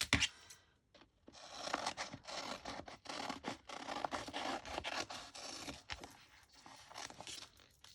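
Scissors snipping through a scrap sticker or label sheet for homemade washi tape, close and fairly loud, a run of dense cutting and rustling strokes with brief pauses and no talk.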